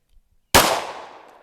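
A single sharp, loud pistol shot from a concealed-carry draw during a timed shooting drill, cracking suddenly out of silence and ringing off with a short decaying echo.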